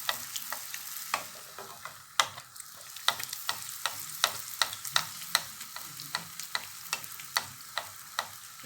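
Sfenj beignets fry in hot oil while oil is spooned over them, a steady crackling sizzle broken by repeated sharp clicks and splashes at an irregular rhythm, close and moderately quiet.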